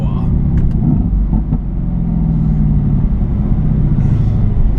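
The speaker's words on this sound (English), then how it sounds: "The bi-turbo V8 rumbling out of the back, rear wheel drive, instant power." A Mercedes-AMG GT S with a rear-mounted bi-turbo V8 and rear-wheel drive rumbles steadily and loudly at low pitch throughout, with little change in level.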